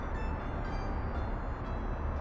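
A steel freight train rolls along in the city-builder game Workers & Resources: Soviet Republic, a steady, loud rumble of wheels and cars with no break across the short stretch.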